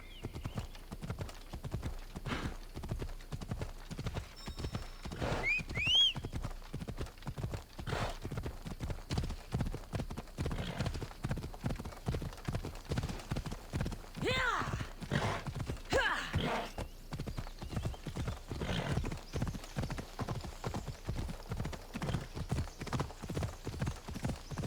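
Hooves of the horse Phobos in Assassin's Creed Odyssey beat a steady, fast clip-clop rhythm for the whole stretch, close and distinct, with a couple of short whinnies or snorts breaking through partway.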